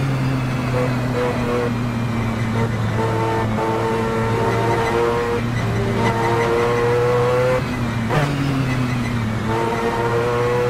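Mazda 787B race car in a racing video game, its rotary engine screaming loud and continuous with rising and falling pitch through gear changes and shifts, no talk over it.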